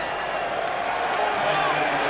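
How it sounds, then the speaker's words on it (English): A stadium crowd cheers for rugby player Chris Whittaker coming on at a 2003 World Cup quarter-final in Brisbane, a broad sustained roar that swells slightly, far-off and continuous. "And a big cheer for Chris Whittaker."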